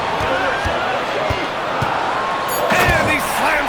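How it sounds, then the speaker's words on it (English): Rhythmic basketball bounces under crowd noise and commentary in a basketball video game, building toward a dunk, with a rise in arena noise near the end; voices talk throughout. "And he slams it down"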